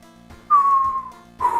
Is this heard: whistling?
yes